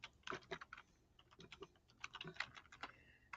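Fingers tapping data into a calculator keypad: a quick, irregular run of small plastic key clicks, close and fairly quiet, with no talk.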